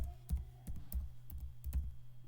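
Someone typing a website address on a computer keyboard: a quick, quiet run of close, irregular keystroke clicks with short pauses between bursts.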